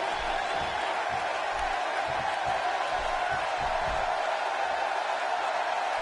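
A steady roar from a large arena crowd at a televised wrestling show in Greensboro, heard in the WWE 2K17 video game, a broad constant cheering wash with no clear peaks, alone.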